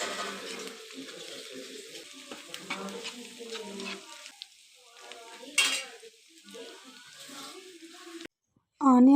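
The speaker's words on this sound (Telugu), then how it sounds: "పసుపు వేసిన తర్వాత మొత్తం అది ఆనియన్స్కి కలిసేలాగా ఒకసారి మొత్తం కలుపుకోవాలి" Sliced onions frying with ginger garlic paste and turmeric, stirred in a pan for a dried fish dish: a steady close sizzle with scraping spoon strokes and occasional clinks against the pan, a voice talking over it.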